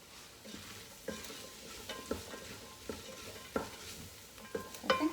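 Broth and tomatoes hit a hot pot and steam and sizzle beneath a steady hiss, while a utensil scrapes and stirs the bottom at intervals.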